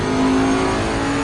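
A race car engine in Assetto Corsa Competizione drones loudly and steadily at high revs, close and continuous with no talking over it; no distinct gear shift stands out.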